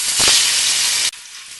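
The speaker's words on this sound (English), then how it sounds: "Then fry in hot oil." Rohu fish pieces coated in turmeric and salt fry in hot oil, giving a loud, steady broadband sizzle for about a second before it cuts off abruptly to a quieter, fainter hiss.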